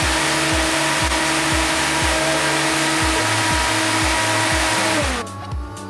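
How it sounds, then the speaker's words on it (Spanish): A Tekno Powers TP Fan 10, a 280 mm high-flow fan, running with a loud, steady whooshing airflow and a faint repeating pulse, then spinning down near the end, no speech. "tomaremos la medición del ventilador TP Fan 10 de 280 milímetros de diámetro, igualmente de alto flujo"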